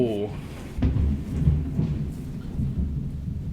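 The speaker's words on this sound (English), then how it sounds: "That lightning strike and thunderclap scared the living hell out of me." Thunderclap from a nearby lightning strike during a thunderstorm, a sudden loud crack followed by a deep rolling rumble that fades slowly, with a voice briefly heard at the start.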